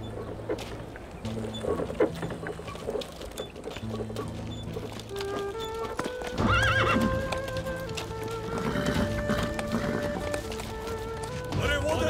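A horse approaches with clear clip-clop hoofbeats and loud whinnies, joined by the chieftain's horse arriving at a camp, with rising hoof rhythm, neighing and some shouting voices and background music throughout.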